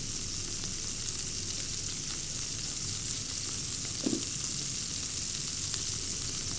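Smashed burger patties sizzle steadily on a hot griddle, a dense continuous frying hiss with a small clink partway through and no talking.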